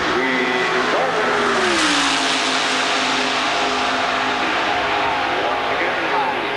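An Indy race car on a 1985 qualifying attempt accelerates onto the straightaway, a loud, close engine tone climbing in pitch and then holding a steady high whine, with a commentator talking over it.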